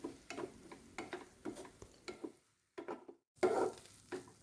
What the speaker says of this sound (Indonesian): Kemudian diaduk sebentar saja.